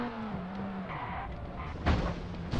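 A rally car in Sebastien Loeb Rally EVO is heard from the cockpit as it drives at speed, with a steady engine drone that shifts pitch, bursts of gravel and tyre noise, and a sharp skid near the end.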